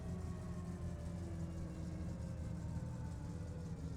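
Car engine droning steadily in the video game My Summer Car, a low continuous hum at moderate level with no voices.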